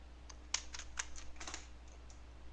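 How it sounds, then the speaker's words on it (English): A cat walks across a computer keyboard, producing a quick run of irregular key clicks and taps, close and fairly quiet over a steady low hum. "My cat is like running all over my keyboard."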